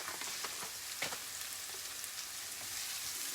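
Onion and cumin seeds sauté in a hot pan with a soft, steady sizzle and faint crackles throughout, a quiet close-up frying hiss with no talking.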